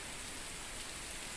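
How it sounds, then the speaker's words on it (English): Steady, dense rainfall in a video game, a continuous hiss of drops on surfaces with no breaks or other sounds. "Nothing like a rainy day. This is like the best weather. The best weather in this game."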